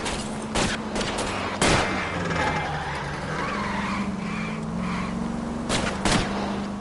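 Gunshots fired at a fleeing car's tires during an L.A. Noire chase, sharp separate cracks over continuous engine roar and tire noise from a moving vehicle.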